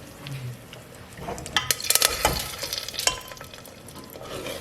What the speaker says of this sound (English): Just give it a mix.